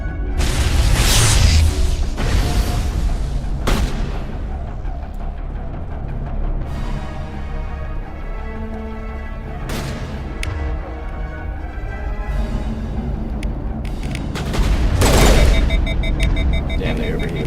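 Gunfire in the sci-fi shooter Mass Effect, fought against robots, comes as loud sharp bursts and blasts separated by ringing, echoing mechanical tones, with a heavier burst near the end.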